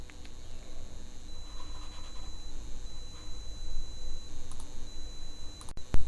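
Mouse clicks on a computer while opening a case-status page on a court records website, a few light, sharp ticks over a low steady hum with faint background noise and no speech.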